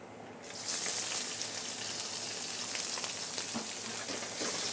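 Chopped onions sauté in a pan with red chili pieces for a papaya and carrot thoran. A steady, bright sizzle starts abruptly and holds loud and close throughout.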